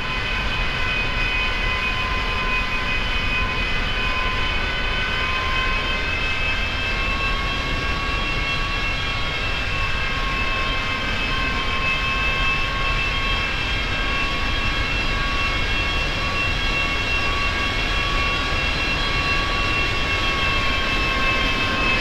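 Airliner engines in the X-Plane 10 flight simulator while taxiing to the runway at night, a steady loud jet whine and roar with constant high tones, unchanging throughout with no voices.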